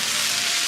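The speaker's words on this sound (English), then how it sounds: "So now we're just gonna pretty much saute until the mushrooms are done." Mushrooms sautéing in a non-stick wok, giving a steady, close, even hiss of sizzling with no talk.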